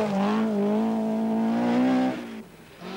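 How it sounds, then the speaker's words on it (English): Stig Blomqvist's Talbot Sunbeam rally car on a rough, slippery Scottish rally stage, its engine revving hard and steadily close by, then dropping off abruptly as it passes. "Blomqvist in his Talbot Sunbeam is again in superb form."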